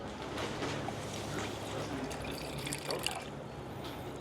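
Cold brew coffee from an Aeropress trickles and splashes as it is poured into an original cup and a metal camping cup, a soft, close liquid sound with no talk.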